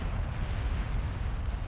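Bombs explode on buildings in the strategy game Beyond All Reason, a dense rolling rumble of overlapping blasts with heavy low booms crowding together, loud and continuous.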